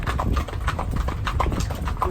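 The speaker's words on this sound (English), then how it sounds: "we've got these two gorgeous horses that are pulling our wagons" Two horses pulling wagons through a village clop steadily on the road, a dense, continuous patter of hooves heard up close with rumbling wheels beneath.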